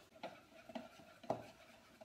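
A spoon stirs a recipe mixture in a bowl, giving three faint scraping taps spaced about half a second apart over a quiet background.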